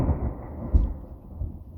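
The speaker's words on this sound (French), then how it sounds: "Il y a eu un flash. Donc c'est le premier orage de l'année" Thunder from the year's first thunderstorm, a low heavy rumble with a couple of deeper swells, distant and muffled, alone without talk.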